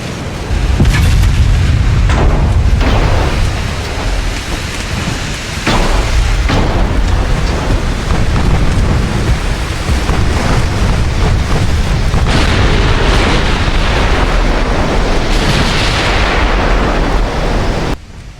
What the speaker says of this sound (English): Lots of secondary fire now coming in as well